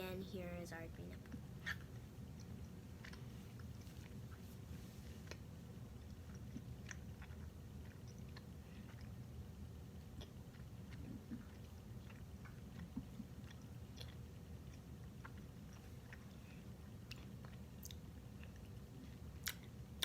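Green apple candy is chewed close to the mic with soft, wet, repeated mouth sounds and occasional clicks against a low steady background.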